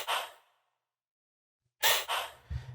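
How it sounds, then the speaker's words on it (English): Breath samples from a cyberpunk sound pack, a sharp inhaled gasp followed after a pause by two more quick, close breaths and a sigh-like exhale, dry and isolated. "So I have these breaths coming in."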